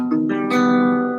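A guitar chord on the bottom four strings, index finger fretting the G string, is picked with a couple of quick note onsets before the full chord sounds and sustains clearly on its own.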